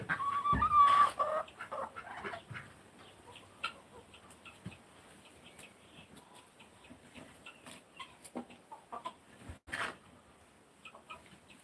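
Chickens in a farm chicken coop cluck and call faintly and intermittently against a quiet background, with a louder burst of calling near the start and scattered soft clucks throughout.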